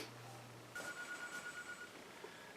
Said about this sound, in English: Every time I get ready to make a video, the phone rings.